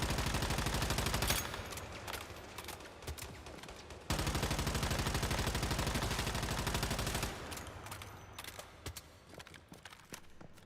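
A gun in the video game Once Human fires in long rapid automatic bursts, loud sustained volleys of shots with short pauses between them, ending in scattered single shots, with no voices.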